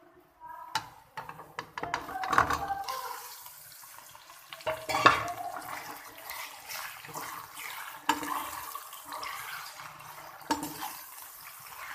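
Chicken pieces dropped into browned onions and stirred in hot ghee in a pot, with scraping spoon strokes, clanks against the metal and a soft sizzle underneath, intermittent and fairly quiet.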